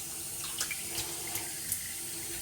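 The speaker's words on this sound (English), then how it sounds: "And then I wring out my brush, rinse my bowl." Water runs steadily from a tap while a shaving lather bowl is rinsed at a sink, a close, even hiss with a few soft splashes and clinks from the bowl and no voices.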